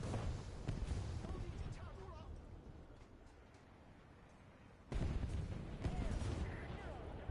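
Gunfire and explosive impacts around a tank in the War Thunder winter event, dense and continuous with sharp bursts, the loudest volley breaking out near the end.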